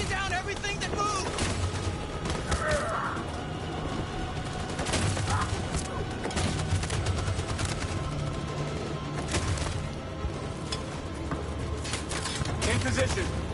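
Sustained machine gun fire and battle noise from the video game Detroit, a dense, continuous barrage of overlapping shots and booms with voices shouting over it throughout.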